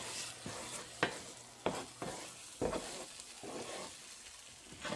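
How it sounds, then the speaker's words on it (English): Breakfast burrito filling being mixed in a frying pan, with several distinct stirring scrapes and knocks over a steady soft sizzle, fairly close and without talk. "let's give this a nice mix"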